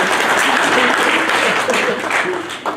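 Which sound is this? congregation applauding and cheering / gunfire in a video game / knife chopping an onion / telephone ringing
congregation applauding and cheering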